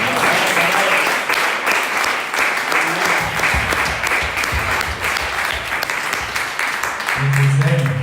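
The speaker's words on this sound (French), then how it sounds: "l'acclamer bien fort" A church congregation applauding and cheering, dense sustained clapping that fills the room steadily, with a voice speaking over it near the end.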